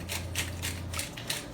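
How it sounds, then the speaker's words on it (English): A manual pepper grinder cranks through black pepper in a quick burst of rhythmic ratcheting, about six gritty crunching pulses, close and loud, over a faint low hum. "it takes forever to grind black pepper with this"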